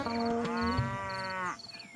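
A buffalo bolting with a bucket caught on its leg lets out a loud drawn-out moo that breaks off abruptly, followed by faint scuffling noise.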